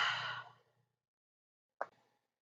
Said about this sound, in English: Start by taking a big breath in.